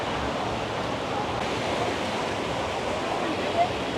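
The swollen Ganges rushes past a ghat at Rishikesh in a continuous, broadband roar of flowing water, steady and fairly loud, with a faint voice in the background.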